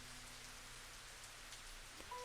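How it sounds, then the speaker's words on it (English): Steady rain in the Higurashi When They Cry game, a soft, even hiss of falling drops with no voices, ending with a faint brief tone. "I screamed loud enough to drown out the roar of the rain"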